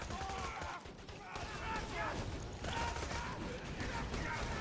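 The Blockhead shotgun firing in Borderlands 2 during a Soldier Axton fight, repeated loud booming blasts with mechanical clatter amid game effects, while a voice talks over them.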